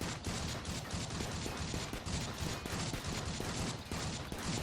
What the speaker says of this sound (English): I'm just gonna shoot at this until it breaks.